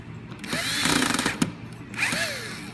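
A power drill on low torque driving screws back into a door lock, two short whirring bursts with a rising then falling motor pitch, close and loud with a pause between.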